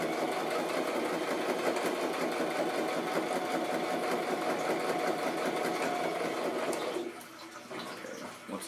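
A sewing machine runs in a fast, continuous whir, stitching through the thick part of a handmade handbag, close and loud before slowing and easing off near the end.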